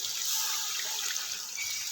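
Water pours steadily into a wok for matar pulao, a close, continuous rushing splash with a bright hiss that holds for the whole moment.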